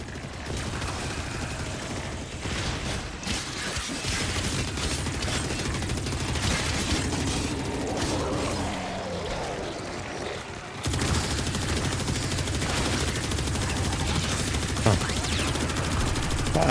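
Sustained rapid gunfire from Warframe, dense and continuous for many seconds with a brief shift midway, the shots running together in a mechanical rattle over steady game sound.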